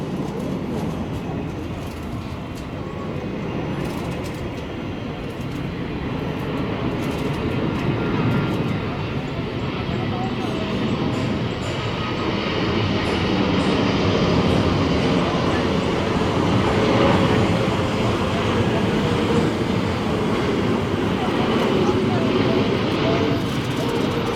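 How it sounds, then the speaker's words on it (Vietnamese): A Boeing 777-300ER landing on runway 25R at Tan Son Nhat, a continuous loud roar of jet engines that slowly swells and holds for a long stretch, heard from outside. "Và mời mọi người chiêm ngưỡng pha hạ cánh của chiếc máy bay này nha."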